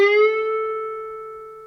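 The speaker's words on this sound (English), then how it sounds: "So if I bend from the 12th fret," A single electric guitar note bent up a whole tone from the 12th fret rings out clearly and sustains, slowly fading over nearly two seconds with no other sounds.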